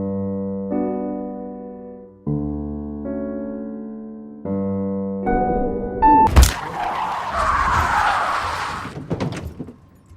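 A car in a horror film swerves to avoid a deer: after a stretch of sustained tonal notes, a sudden loud impact bursts in, followed by a harsh, noisy skid or screech that fades out.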